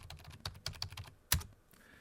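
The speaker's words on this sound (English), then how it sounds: "I'm just typing in these numbers here" Numbers typed on a computer keyboard, a quick close run of light key taps that ends in one louder keystroke, with no talking.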